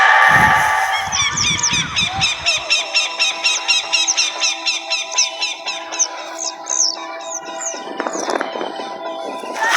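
A bhonpu horn is blown with its mouth turned this way inside a hidden tunnel, producing a long train of repeated honking, goose-like blasts in a steady pulsing rhythm, loud and close after a brief burst of noise at the start.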